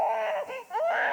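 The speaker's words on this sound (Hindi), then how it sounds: "बच्चा रो रहा है यार।" An infant cries loudly and continuously in a domestic scene, with wailing rises and falls and a brief dip in the middle before the crying swells again.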